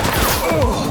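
Rapid bursts of gunfire crackle in a police shootout in the video game The Precinct, loud and dense, packed into a single second of overlapping shots.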